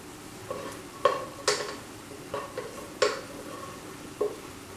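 Cooked rice stirred in a pan for tomato rice: a series of scraping strokes with light metallic clinks of a spoon against the pan, over a soft sizzle, close by with no talking.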